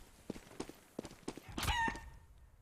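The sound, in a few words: chicken clucking in a video game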